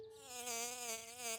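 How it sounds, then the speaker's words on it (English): A cartoon honeybee gives a short, close, steady buzzing drone with a slight wavering pitch, alone and fairly soft. "That's just a honeybee, George."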